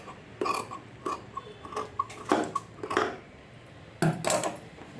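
Scissors cutting away excess blouse lining fabric, a series of close, crunchy snips and short shearing bursts in irregular clusters, with a louder final pair of cuts near the end and no talking.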